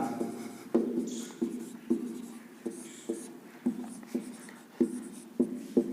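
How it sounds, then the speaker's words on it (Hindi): Hand writing on paper, a steady series of close taps and short scratchy strokes as an example is written out, with no talking. "एक लिख लेते हैं हम उदाहरण"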